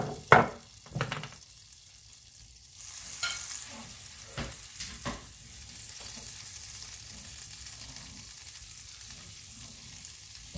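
Fifteen grams of butter hits a hot frying pan and sizzles steadily, with a few scraping stirs early on, close and alone without talk.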